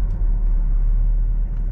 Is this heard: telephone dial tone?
no